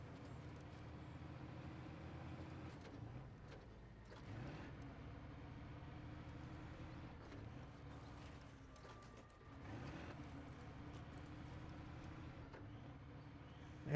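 Articulated truck in SnowRunner driving with a steady, loud low engine drone and continuous mechanical rattling and clunking, with no talk over it.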